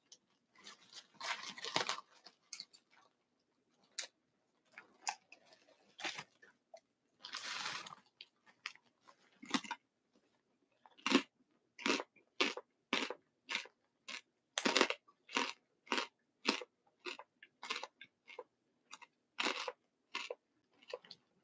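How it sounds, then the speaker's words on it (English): Crisp crunching bites on a snack with an odd texture repeat in an even, rhythmic series close up, starting out irregular and settling into regular chews, with no talking. "They have a weird crunch, but they're still tasting good"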